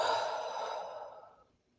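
A single deep breath blown out slowly through the mouth, close and soft, a breathy sigh that tapers away to silence in a quiet room.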